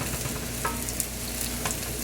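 Steak quesadillas frying in a pan until brown and crispy, a dense, even sizzle that holds steady throughout with faint crackles, close and fairly loud.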